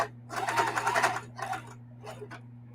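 A sewing machine stitches a pillow seam in quick rattling bursts, a long run followed by shorter ones with brief pauses, close up over a steady low motor hum.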